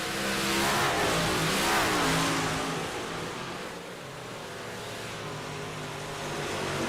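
Race cars roar past on a short track during a heat race, engines revving loudly and continuously, swelling and fading as they pass, with no talk over them.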